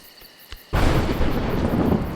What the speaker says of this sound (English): Mud, thunder, and lightning are terrible opponents.